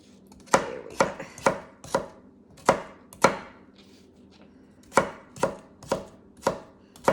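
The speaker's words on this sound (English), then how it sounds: "That's a little thick. Let me slice it." A knife chops through a carrot on a cutting board in sharp, close taps. They come in uneven clusters of two or three strikes, with short pauses between.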